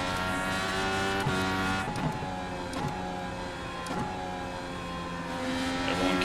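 Indy cars racing on the IRP oval in the iRacing video game, a loud, steady high-pitched engine drone layered from several cars, with brief swells as they pass.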